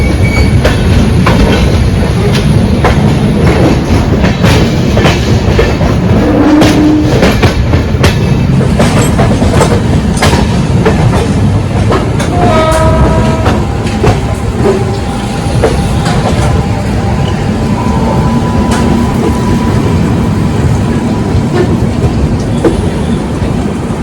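Mumbai–Howrah Duronto Express train running steadily on rails, with continuous loud rumbling, rhythmic clickety-clack of wheels over joints and brief high metallic squeals, heard from inside the moving carriage.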